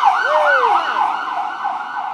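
An ambulance siren passes close by and loud, its wailing tone sweeping up and down in repeated cycles, then holding a steadier pitch as it moves on.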